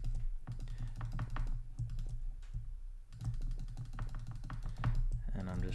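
Computer keyboard keys clatter in quick irregular bursts while a photo is being retouched, with someone talking over the clicking throughout.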